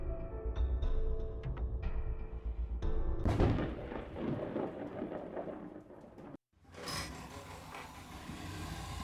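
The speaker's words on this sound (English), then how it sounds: "A lightning bolt. It's alive!" Rumbling thunder from a lightning strike in a video game, a loud broadband roll that builds into a heavy crash midway, breaks off to brief silence, then returns with rain-like hiss.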